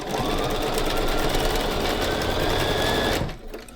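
A sewing machine runs steadily for about three seconds while quilt block pieces are chain pieced, a loud continuous mechanical whir with rapid needle stitching that stops abruptly near the end.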